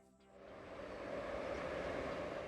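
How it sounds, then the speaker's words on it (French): A Chinese high-speed train rushes past, rising within a second into a steady, loud roar that holds to the end. "Les trains rapides sont l'un des symboles de la Chine moderne"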